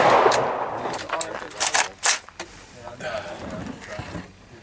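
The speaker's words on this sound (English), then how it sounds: "We get to shoot guns." Rifle shots from .308 and 5.56 guns, including an AR and a Mosin Nagant, crack outdoors as several sharp, separate reports spread across a few seconds, with people talking under and between them.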